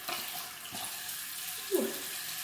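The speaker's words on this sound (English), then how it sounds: "I am going to take my towel, run it through some warm water that's really warm" Warm water runs steadily from a bathroom tap as a towel is held under the stream, a continuous hissing flow with a brief splash and gurgle near the end.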